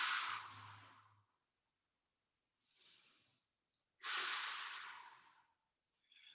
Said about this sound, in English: And I'm breathing.